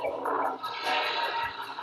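A toilet flushing, a short rushing gurgle of water, close and moderately loud, heard alone.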